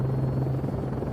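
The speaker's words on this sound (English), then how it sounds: "As the helicopter scans the ground below" A police helicopter flies overhead during a search for a missing, high-risk person near Orrell Water Park, producing a steady, loud rotor rumble with a low droning hum and no voices.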